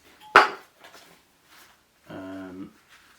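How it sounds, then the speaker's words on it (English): An Alpkit titanium cook bowl and a gas cartridge are handled: one sharp metallic clank at the start, then a short resonant ringing scrape of titanium about two seconds later, close by and otherwise quiet. "Cook set is Alpkit titanium bowl with the gas cartridge"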